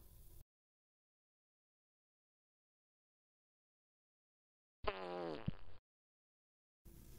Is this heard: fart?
yes